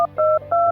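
A telephone keypad dialing a call to Chicago, three short touch-tone beeps in quick succession, clear and close.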